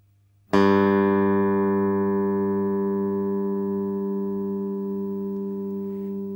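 A single low note on a bass guitar's open G string is plucked and rings out steadily, slowly fading over several seconds with no other sound.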